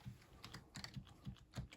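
Quiet typing on a computer keyboard, with soft, irregular key clicks tapping out in small clusters close by in a calm room.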